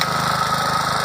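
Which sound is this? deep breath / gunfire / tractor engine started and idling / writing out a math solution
tractor engine started and idling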